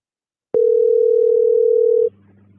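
A loud, steady telephone dial tone plays alone after a call is dropped, holding for about a second and a half before stopping abruptly and giving way to a low, quiet hum.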